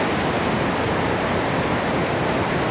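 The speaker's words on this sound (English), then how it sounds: "So here's the white noise source right here." Steady, loud white noise from the noise source of a Diva software synthesizer, held on a middle C note, a continuous broadband hiss heard on its own.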